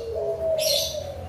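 Songbirds at a bird farm for prize-winning competition birds, a short bright chirp standing out briefly over a steady tonal call and low background hum.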